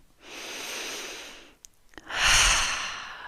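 A long, deep inhale followed by a heavy, airy exhale, close and clear, alone without talk, during a guided breathing moment.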